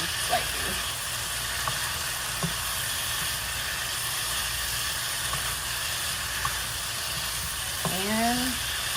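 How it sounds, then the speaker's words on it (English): Beef chili stir-fry sizzles and hisses steadily in a wok, a low frying crackle with a few soft clinks, and a brief voice rises near the end. "We're just gonna let it like cook in the wok for like a few more minutes"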